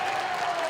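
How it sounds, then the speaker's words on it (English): Basketball crowd at a boys' high school sectional game in DeKalb, with North Side fans letting out a sarcastic cheer after a foul call; a brief, steady wash of cheering and clapping filling the gym. "the Northside fans give a sarcastic cheer with that foul call"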